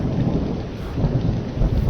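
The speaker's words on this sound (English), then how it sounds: "We're in a terrible storm." Heavy thunderstorm used as a sound effect, with dense continuous rainfall and deep low rumbling thunder rolling underneath, loud and constant across the whole stretch.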